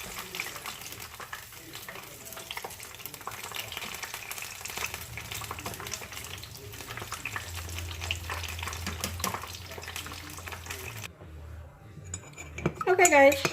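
Egg rolls frying in hot oil in a home kitchen, with a steady sizzle, low hum and scattered clinks of utensils and pans throughout, ending in a few louder crackles and pops.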